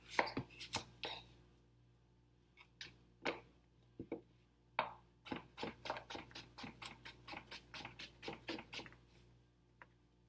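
A knife slicing cucumber on a cutting board, sharp quick chops that start scattered and then settle into a fast, even run of close, crisp taps, with no voices.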